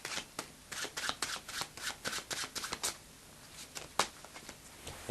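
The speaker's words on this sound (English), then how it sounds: "of stacking cards, which is arranging the cards so that you get them during the deal" Playing cards shuffled by hand while stacking a deck for a four-player deal: a quick run of crisp, riffling slaps and flutters, close and steady, with one louder snap near the end and no talk.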